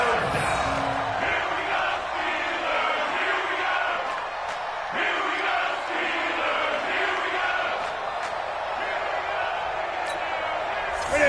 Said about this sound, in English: the crowd getting into it as we come up on a big third down